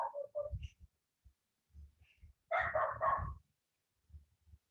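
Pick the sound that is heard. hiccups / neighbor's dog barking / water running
neighbor's dog barking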